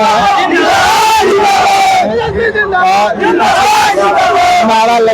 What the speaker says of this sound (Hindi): नारा लग रहा है।